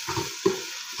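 Ginger garlic paste with green chili sizzles in a pan for homemade chicken biryani, a steady frying hiss broken by short scraping stirs, close and alone.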